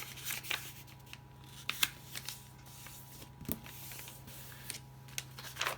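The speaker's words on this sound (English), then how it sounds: "So I'm going to fold that one up" Sheets of paper are folded in half to form a journal signature, with soft crisp rustles and sharp creasing snaps at irregular moments against a quiet background.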